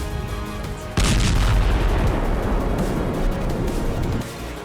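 Artillery bombardment in Ukraine war footage: a heavy boom hits suddenly and rolls into a sustained rumbling roar that holds for about three seconds before easing back to a lower background rumble.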